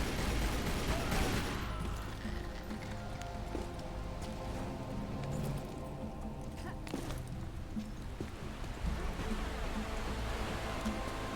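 Gunfire in a Tomb Raider game, a fusillade of rapid shots spread through the whole span at steady loudness, mixed with thuds, clattering and game noise, and a voice at times over it.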